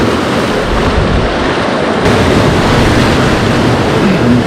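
Big ocean waves crash onto a rocky point on a Central American coast at high tide in the dark, a loud steady roar of surf with heavy wind rumble on the microphone.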